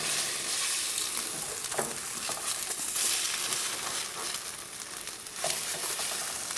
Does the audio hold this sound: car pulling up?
no